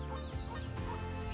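Goose at a park lake calling over steady background noise, a dense harmonic honking that runs through the short stretch without a clear break.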